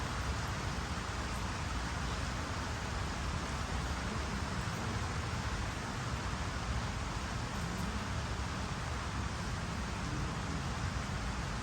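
Heavy monsoon rain falls in a dense, even hiss that stays steady and unbroken throughout, with no voices.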